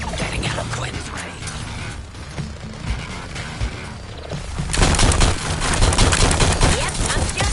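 Rapid gunfire and mechanical clatter from a superhero combat video game, dense and continuous, with a denser, louder burst of shooting in the second half.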